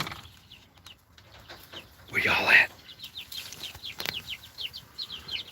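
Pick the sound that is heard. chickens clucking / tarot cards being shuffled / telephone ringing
chickens clucking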